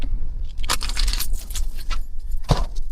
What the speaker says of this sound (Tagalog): hindi niya hinahayaan na ang ating susi ay maipasok ng maayos